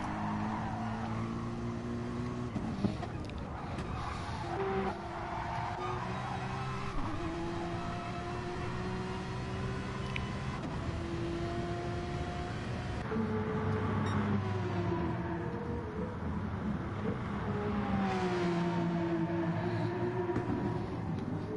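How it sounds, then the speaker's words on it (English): A Porsche GT3 race car at Brands Hatch in a racing game, its engine droning steadily with shifting pitch as it runs through a turn amid other cars, a continuous mid-loud roar with no talk. "Sweet sounding engine of that Porsche coming around the first turn of the track"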